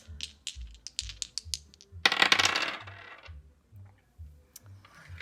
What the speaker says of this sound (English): So I'm going to start by rolling the dice